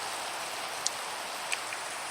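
Steady rain falls in Minecraft running Sildur's Vibrant Shaders Extreme-VL, a dense, even hiss of drops with a couple of brief sharper patters, continuous and alone without voices.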